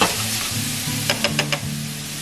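Charred fajita mix sizzles in hot oil in a pan, a loud steady hiss with a few sharper crackles and stirring scrapes partway through.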